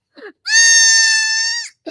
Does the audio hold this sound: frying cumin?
no